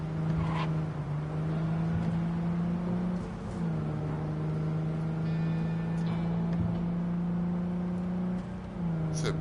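A car driving through the city in Cyberpunk 2077 hums with a steady engine drone, dipping and rising slightly as it shifts pitch a few times, loud and continuous throughout.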